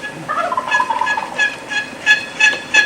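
A wild turkey gobbles from its roost high in a pine, several rattling gobble bursts rolling out one after another at moderate distance, with the later calls sharper and louder against a quiet outdoor backdrop.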